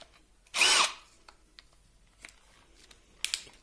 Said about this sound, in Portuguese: Vamos começar aqui com uma broca 13 milímetros para madeira